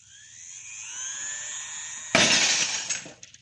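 Glass shatters in a single loud, sudden crash after a rising electronic whine, scattering into brief tinkling debris, a sound effect from a 1940 Superman radio drama.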